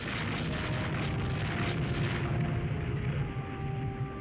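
Naval gunfire in Rule the Waves 2 hits the ship Freya as a continuous heavy rumble of blasts and booming impacts, dense and fairly loud, with no speech.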